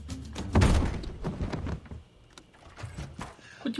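A locked door is tried in a TV show, giving a heavy thunk and rattle near the start, followed by quieter bumps and faint background noise.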